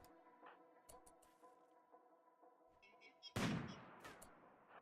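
A single loud gunshot from the video game RimWorld cracks out near the end, a sharp burst with a short decaying tail, preceded by quiet in-game tones.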